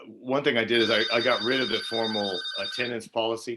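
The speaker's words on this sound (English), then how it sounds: "sorry about the phone in the background" A phone rings faintly in the background as a steady high tone sits under a man's continuous lecture-style talking.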